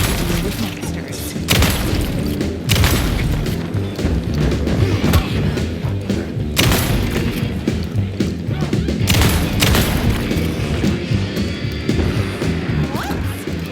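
Loud, heavy shots from a gun in Alan Wake 2 crack out every second or two amid thuds and crashes, dense and close, with a voice speaking over parts of the action.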